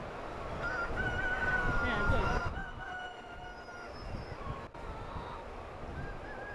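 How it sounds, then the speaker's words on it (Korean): At an open-air welfare egg farm in Hwasun, South Jeolla, laying hens and roosters crow in drawn-out calls that overlap amid clucking and a windy rush, loudest early and then easing to scattered calls nearby. "탁 트인 야외 농장에서 마음껏 목청을 높여가며 여유로운 한때를 보내고 있는 닭들"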